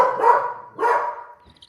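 A dog gives two loud close barks, each drawn out and slightly whiny, followed by a faint brief yip, with no one speaking.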